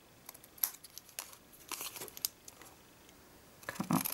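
Scissors cut card stock up to a score line and notch it while making a gift box. Short, crisp snips and papery crinkles come in scattered bursts, close and fairly quiet, with pauses between the cuts.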